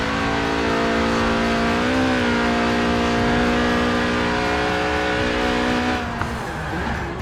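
Tuned, stripped-out Lotus Elise Sport 190 track car drifting in Forza Horizon 4, its engine holding a loud, steady high-revving whine that rises briefly and then cuts off near the end, with no voices.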